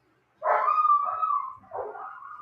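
A dog gives a drawn-out, whining bark-howl, close and alone, followed by a softer second call after a short break.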